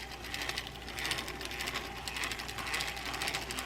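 Broken Ambassador Brute 6600 baitcasting fishing reel, made in Sweden, with a faulty gear train, turning with a steady rough mechanical grinding and ratcheting whir, close and fairly quiet.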